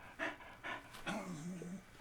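A dog that has just come in from running around outside pants in quick, breathy bursts, a few separate heaves at close range, with a faint whine drifting underneath.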